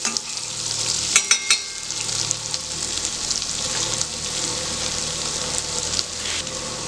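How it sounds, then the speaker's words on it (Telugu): Ginger and garlic pieces frying in a pan for palak paneer, a steady close sizzle with a few sharp stirring clinks near the start and scattered spatters throughout. "ఇవన్నీ జస్ట్ ఒక 2 minutes మనం వేయించుకుందాము, వీటి పచ్చివాసన పోయే వరకు"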